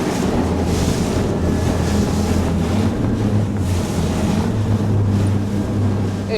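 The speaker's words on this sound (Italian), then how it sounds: "È arrivato il momento di saggiare le doti di carena di questo gommone, per cui da 30 nodi senza rallentare" A Halma RIB HR30 inflatable boat runs straight at 30 knots during a hull test, its engine drone steady and loud beneath strong wind buffeting and rushing water and spray.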